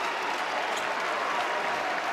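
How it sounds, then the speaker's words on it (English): A crowd at a college basketball game between PC and Villanova, played at an arena called the Amp, breaks into sustained applause, a dense and even wash of clapping with no break throughout. "a nice hand from the crowd here at the Amp"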